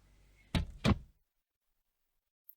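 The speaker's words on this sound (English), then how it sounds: "The door was closed quietly" A door swings shut quietly with two soft, close thuds in quick succession, the latch catching on the second, followed by silence.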